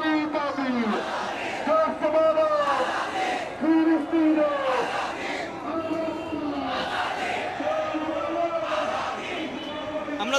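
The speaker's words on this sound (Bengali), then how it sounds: "সাবিলুনা সাবিলুনা আল জিহাদ আল জিহাদ স্লোগান দিচ্ছে" A street protest crowd near Baitul Mukarram national mosque in Dhaka chants the slogan "Sabiluna sabiluna al jihad" in repeated rhythmic call-and-response bursts, many voices loud and close, rising and falling across the whole stretch.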